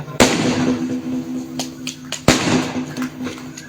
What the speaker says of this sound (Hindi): हाँ, कौन फटा रहा बम?